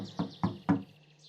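Three evenly spaced, hollow wooden knocks on a hut door in a cartoon story. They are close and moderately loud, followed by a brief quiet tail.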